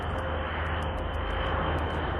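A tiltrotor propeller aircraft gives a steady, loud, unbroken engine-and-propeller drone with a constant low throb and no pauses.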